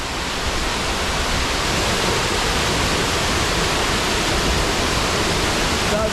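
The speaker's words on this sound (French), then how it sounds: "Superbe déversoir, je pense qu'il doit y avoir au-dessus encore une petite retenue d'eau." Water rushing steadily over a spillway below a small reservoir on a hike in Norway, a dense, constant broadband roar from start to finish with no pauses and no voices.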